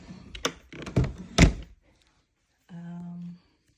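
Wooden dresser drawers being pulled open and rummaged through at an estate sale: three close, hollow thunks in quick succession, then a short pause and a brief low scraping slide.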